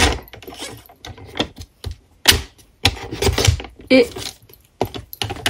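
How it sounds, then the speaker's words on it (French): A piece of card is cut in half at its centre with a sharp, clicking cut, broken into short bursts with brief pauses, close by, and a voice speaks a little between the cuts. "on peut venir ici maintenant découper notre morceau au centre"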